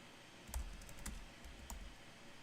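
Computer keyboard keystrokes on a live sports stream, a few scattered taps and clicks, faint and fairly close, over a low background hum with no talk.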